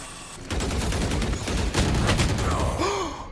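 Rapid rifle fire crackles in a Valorant match, several quick bursts of shots over a steady background roar lasting a few seconds.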